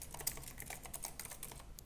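Fingers type on a computer keyboard in a quick, faint run of light key clicks at an uneven rhythm, with no voices.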